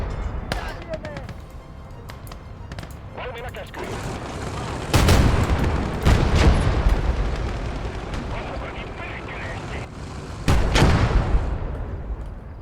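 Gunfire in a video game battle, with a machine gun and heavier booming blasts, lands in loud, irregular bursts and thuds over constant rumbling background noise, while someone talks intermittently.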